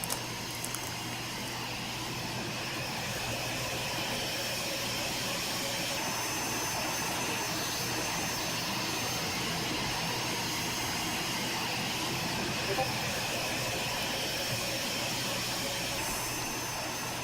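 Steady jet-engine whine and rumble from a parked airliner in the X-Plane 11 flight simulator, a constant broadband hum with a high tonal line, holding evenly throughout with no talk.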